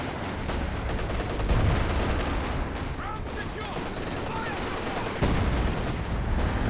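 Artillery and gunfire in a Company of Heroes match, a dense continuous battle roar with repeated thumping impacts and crackling shots, heard under lively game commentary.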